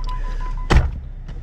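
A door opens with a single solid thump after a low mechanical hum, followed by quieter rattling and a faint second knock.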